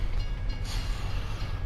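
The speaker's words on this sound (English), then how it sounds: "Ooh, yeah, nearly got hit by the train there." A train rumbles past at a level crossing in Farming Simulator 25, a steady, loud low-pitched roll with a brief brighter swell midway, heard alone without talk.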